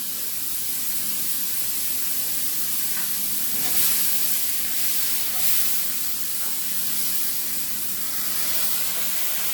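Brandy poured into a hot steak Diane pan sets off a loud, steady hiss and sizzle that holds evenly throughout with a few brief swells, and no one speaks.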